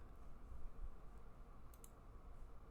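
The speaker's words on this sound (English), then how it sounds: "Click on the Bitcoin asset to open its page." Faint clicks of a computer mouse while selecting an asset on the eToro trading website, two quick clicks near the middle over a soft steady hiss.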